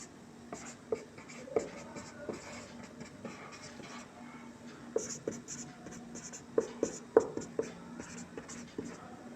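Pen scratches across paper while a math problem is worked out, a steady run of short scribbling strokes and light taps at close range, with occasional louder clicks against a faint room hum and no clear speech.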